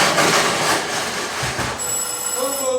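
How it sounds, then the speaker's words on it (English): A telephone bell rings in an old-time radio comedy scene, its bright tones entering partway through over a steady noisy hiss and low background sound. "The telephone, answer it"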